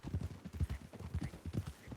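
Horse hooves clip-clopping from Lady Hoofington, a horse in Red Dead Redemption 2, a steady close rhythm of four-beat hoof strikes repeating evenly at walking pace, fairly quiet and alone.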